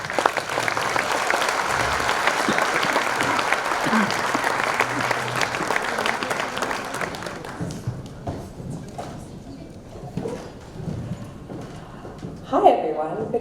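Audience applause welcoming a speaker to the stage at a community anniversary celebration, a dense, steady clapping crowd that holds strong for about seven seconds before thinning into scattered claps and murmurs, with a brief voice near the end.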